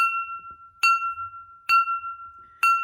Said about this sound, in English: He was flicking on the glass.